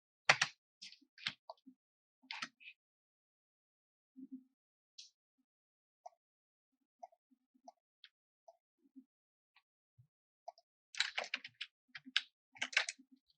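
Typing on a computer keyboard while entering dimensions in Fusion 360: bursts of close key taps at the start, sparse isolated presses through the middle, then a dense flurry of rapid keystrokes near the end.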